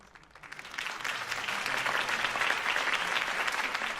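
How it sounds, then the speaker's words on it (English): Crowd applause at a political campaign rally in the Batman Telltale video game, rising from quiet into a dense, sustained wash of clapping that stays loud and steady throughout. "If only Mr. Wayne, my campaign's largest backer, could have heard that applause"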